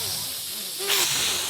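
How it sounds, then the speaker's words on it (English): A cartoon cat hisses, a short breathy burst of noise rising sharply in the second half, close and alone. "The anthropomorphic cat knocks the regular cat's book on the floor on purpose and it starts hissing."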